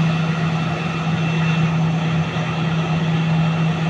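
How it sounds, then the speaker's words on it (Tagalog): A large airplane parked at an airport before dawn hums with a steady, loud engine drone and a constant tonal whine, unbroken and close. "Laking eroplano rin."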